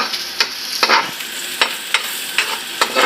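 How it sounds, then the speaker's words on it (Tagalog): Pork fat frying in a pan, a steady close sizzle broken by sharp scraping bursts from stirring at roughly half-second intervals, with no talk. "Lauoy nga giprito ang kuan."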